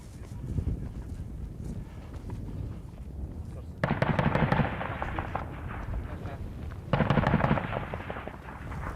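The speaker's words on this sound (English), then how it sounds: "That was an ANA with firing warning shots." An Afghan National Army soldier fires warning shots: two loud, sudden bursts of gunfire about three seconds apart, rising over a steady background rumble.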